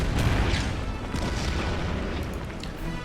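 Artillery fire in the World War II strategy game Order of Battle: Burma Road, at the Battle of Sittang Bridge. A loud, dull boom opens the clip and fades into a rumbling roll.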